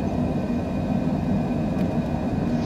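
A Cessna Citation jet in Microsoft Flight Simulator climbs just after takeoff, its engines giving a steady, loud, dense roar with a faint high whine held through the whole stretch.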